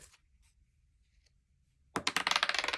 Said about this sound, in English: I'm throwing dice all over the room